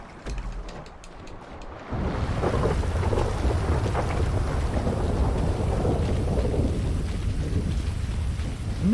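Heavy rain and rumbling thunder in the video game GTA 5: quieter patter for the first two seconds, then a loud, dense downpour with sustained low rolling thunder that fills the rest, no talk.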